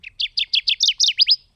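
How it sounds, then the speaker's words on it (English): A tiny endangered bird calling near Grayling, Michigan: a close, clear run of about eight quick high chirps in an even rhythm, alone against silence. "It's just a little tiny bird, but it is an endangered species. It is a beautiful bird. It has a beautiful call."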